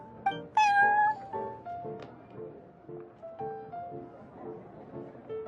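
Cat meowing in the Genshin Impact video game, a bright meow near the start followed by softer, game-style background tones, with no speech over it.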